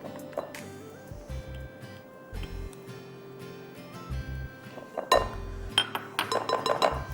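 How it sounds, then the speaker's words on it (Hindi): A spoon clinks and scrapes against a bowl as egg-free cake ingredients, including brown sugar, are stirred together by hand; irregular close taps run throughout and grow busier and louder near the end. "अब एवरीथिंग गोज़ इनटू माय बोल और हम मिक्स कर देते हैं।"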